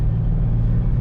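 A Nissan Patrol Y60 minibus engine running close up, a loud, steady, deep rumble with no voices over it.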